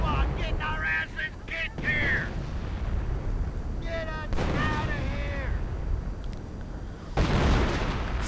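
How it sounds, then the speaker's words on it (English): Artillery shells burst in a World War II strategy video game, a continuous rumbling barrage of booming impacts and gunfire with a louder blast near the end, while a voice talks over the din. "Artillery going in."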